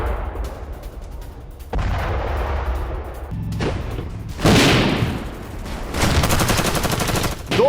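Battlefield footage of a Russian attack on the Ukrainian front near Lyman, with continuous rumbling artillery fire and bursts of gunfire, dense and noisy, with no speech.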